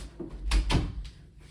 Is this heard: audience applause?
no